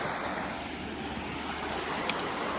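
Steady broadband rush of creek water flowing, a continuous close wash with no clear breaks and a faint click near the end.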